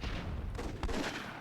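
Cannon fire in the video game Myth II, a couple of quick muffled booming shots in close succession over a dense, rumbling game backdrop, with no speech.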